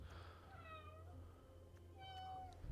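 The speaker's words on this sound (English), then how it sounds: "I've got a small cat mewing at me" A small cat mews softly a few times, a couple of thin rising-and-falling cries over a faint low hum in a quiet room.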